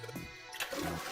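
A toilet flush in the video game 999: Nine Hours, Nine Persons, Nine Doors, a short rushing gurgle of water, moderately close and fairly quiet.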